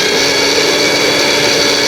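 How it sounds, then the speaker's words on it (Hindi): A kitchen blender roars steadily while blending ingredients for kunafa chocolate, a loud, even, high-pitched motor whine with no pauses and no talking. "सो ये ब्लेंड हो चुका है"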